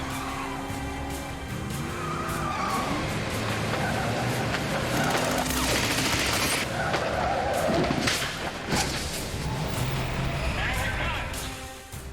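A BMW driven hard through the streets of Cape Town in a chase, with a loud sustained engine roar, tire squeals and skids, and passing traffic throughout, while a voice talks over it.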